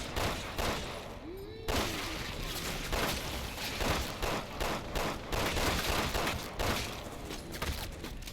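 Video game Resident Evil 6 with AI teammates firing guns, rapid continuous bursts of gunfire overlapping in a cramped space, loud and steady throughout with one brief pause.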